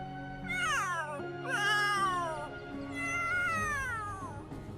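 A cat in The Sims 3 video game gives three drawn-out, wavering meows in close succession, loud and near, with no talk.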